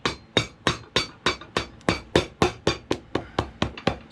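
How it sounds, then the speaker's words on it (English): A cobbler hammers a rubber cross-hatch half sole onto a shoe with the back end of a French hammer, sixteen sharp, evenly spaced blows, close and loud with no talking. "Sorry about the hammering."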